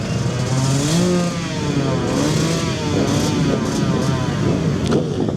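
A convoy of motorcycles rolls into Mongolia's 2026 opening parade of cars and motorbikes, a loud, steady roar of engines with repeated revving surges close by.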